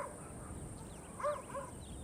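Wild dogs barking and yipping near baboons in their sleeping area, with a few short, moderately distant calls over a steady outdoor background hiss.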